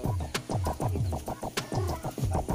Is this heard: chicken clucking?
yes